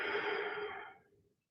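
One long exhale during a yoga session, a near, breathy sigh that trails off to silence.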